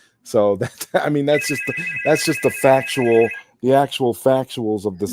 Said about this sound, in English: That's not me, guys. No, that's my phone.